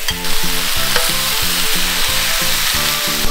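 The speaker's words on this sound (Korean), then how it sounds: "이제 삼겹살을, 오겹살을 올릴게요." Thick slices of pork belly laid on a hot grill sizzle loudly and continuously, a close, dense frying crackle with a steady rhythmic hum running beneath it.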